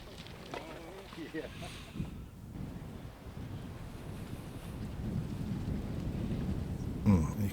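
Strong wind gusting across an open disc golf course, a steady low roar of microphone buffeting that builds louder toward the end, with brief voices early on.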